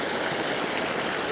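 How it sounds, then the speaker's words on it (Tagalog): A flowing river rushes in a dense, steady wash of water noise, close and loud, at Coto Mines in Masinloc, Zambales. "Tapos dito, sa gitna, makikita nyo yung umaagos na ilog."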